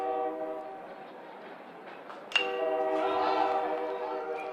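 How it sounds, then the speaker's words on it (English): A long train rolls past near a baseball park during a college championship game, its horn sounding in sustained tonal blasts with a sharp jolt midway and steady rumble throughout, fairly close and loud. "Apparently it's a long train at 11 o'clock as well."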